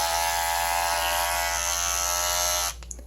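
Dlamer YC-919 electric hair clippers running on the high setting, a steady close-up buzzing hum that stays even for a few seconds and then cuts off with a couple of faint clicks.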